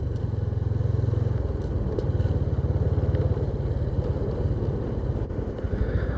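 A custom motorcycle with a manual clutch and FCC clutch plates rides along, its engine a loud, continuous low throbbing drone heard close, with steady pulsing firing and slight shifts in pitch.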